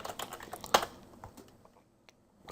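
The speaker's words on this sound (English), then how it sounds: "I'll type env" A computer keyboard clatters with a quick cluster of light key taps near the start, then a few sparse clicks trailing off into quiet.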